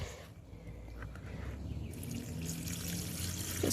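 Collected rainwater pours and trickles steadily from a container over a newly planted shrub in a Zone 8a summer garden, a soft continuous splash that grows slightly louder toward the end.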